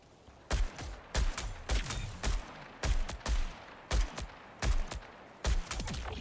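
Gunfire in a Bungie video game, about ten loud, sharp bursts in a steady, repeating rhythm, each a quick cluster of shots, with no talk.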